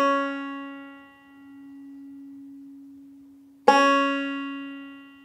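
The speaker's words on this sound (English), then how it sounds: "now you figured out that that was C sharp, which I'm playing on the second fret of the second string" A single banjo note, C sharp fretted at the second fret of the second string, rings out with bright harmonics and slowly decays, then is plucked again sharply near the end and sustains.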